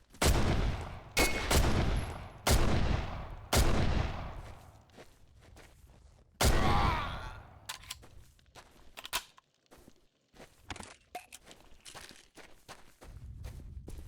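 Loud gunshots ring out in Condemned: Criminal Origins, a cluster of sharp blasts with reverberant tails in the first half, then scattered quieter shots and footstep-like impacts as the firefight thins out, no talking over it.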